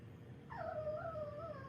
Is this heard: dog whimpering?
yes